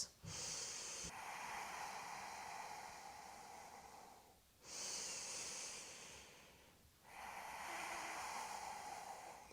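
Slow, deep breaths during a calming yoga and breathwork session: long airy inhales and exhales in steady cycles with short pauses, close and clear, no talking.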